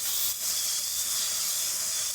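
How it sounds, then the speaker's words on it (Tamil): Tomatoes sautéing in a pan with onion, chilli and curry leaves for a Bangalore-style cluster bean gojju, giving a steady, close, even sizzle and hiss throughout with no pauses or talk. "ஃப்ரெண்ட்ஸ் தக்காளி நல்லா வதங்குது"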